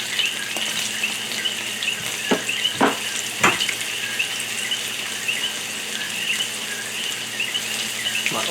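Peacock bass frying in a pan of very hot oil, continuous crackling sizzle with a few sharper pops and spits rising over it, close and fairly loud, no talking.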